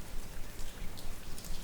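Steady rain falling, a dense, even hiss of drops close by, with no voices over it.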